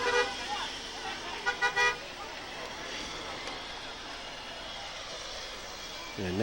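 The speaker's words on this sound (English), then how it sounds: "And that is a long truck" A long truck rolls past during the 2004 Wadsworth Blue Tip Parade, a steady broadband road rumble with a few short horn toots early on and a rising engine note at the end.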